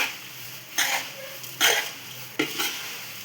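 Nylon poha flattened rice roasts in hot oil over a low flame, giving a steady soft sizzle with three brief louder scrapes of stirring spread across a few seconds.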